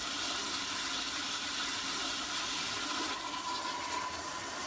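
A toilet flushes ice cream away, a sustained rushing, gurgling water sound at steady loudness throughout.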